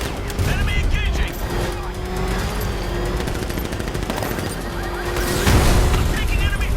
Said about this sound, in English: I'm taking enemy fire.